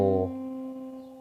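A single plucked guitar note C, played with a capo, rings out clearly on its own, its bright attack softening into a steady, slowly fading sustain.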